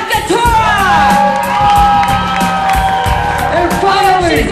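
A comedy club audience cheers, whoops and applauds loudly for comedians at a stand-up finals event, with shouts rising and falling continuously and a voice talking over the crowd.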